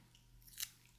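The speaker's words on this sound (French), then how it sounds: "Je vais couper 3 petits morceaux." A single quiet snip of scissors cutting a small piece, a brief crisp cut in near silence, close and soft in an intimate setting.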